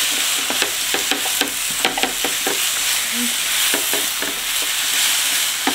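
Mushrooms fry in oil in a pan over moderate heat, giving a steady close sizzle broken by the regular scrape and clack of stirring, with no talking.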